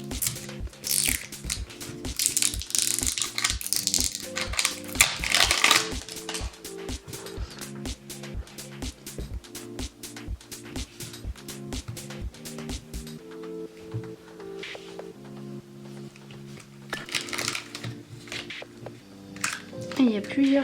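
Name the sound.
opening a yellow banana toy package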